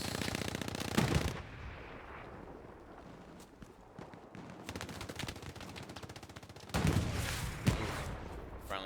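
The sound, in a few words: gunfire in the video game Hell Let Loose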